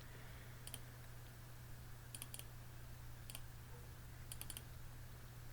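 Computer mouse being double-clicked while filling in a baseball lineup on a PC: four sharp, quiet paired clicks at irregular intervals over a steady electrical hum, with no talking.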